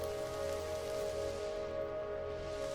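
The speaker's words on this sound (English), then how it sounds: "I was hoping I didn't have a storm in this episode" Steady rain from a storm in the video game Mind Over Magic patters continuously and softly, an even hiss with a faint tonal hum from background music underneath.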